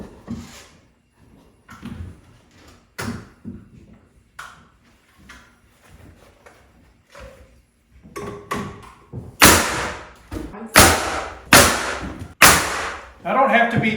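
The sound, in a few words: nail gun toenailing boards into place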